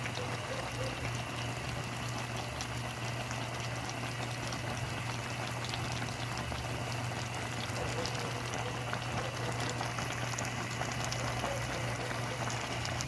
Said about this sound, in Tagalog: Pakuluan lang natin ng konting oras pa.